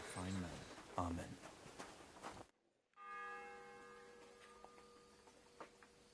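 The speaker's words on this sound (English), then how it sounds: "The 6th bell." A church bell in Kingdom Come: Deliverance 2 chimes faintly in the distance as sustained, ringing tones that linger over quiet game ambience, following a stretch of louder clattering sounds.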